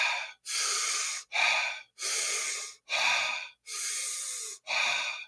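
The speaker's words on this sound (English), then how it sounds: "And don't forget Wim Hof breathing." Wim Hof breathing: forceful, rhythmic cycles of deep inhales and exhales through the mouth, seven hissing breaths about a second each, separated by short pauses, loud and close.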